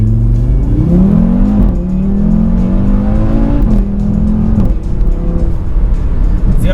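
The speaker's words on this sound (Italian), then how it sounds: "adesso proviamo a fare una partenza" A 460 hp Audi RS3 ABT launches hard from a standstill, its engine rising loudly through gears with steady revving climbs and brief shift breaks, close and dominant with no talk.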